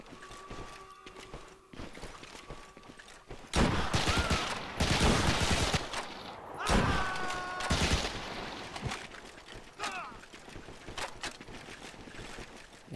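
Bursts of gunfire from the video game Medal of Honor: Heroes, with several loud volleys and single shots mixed with tonal game effects and quieter stretches between them.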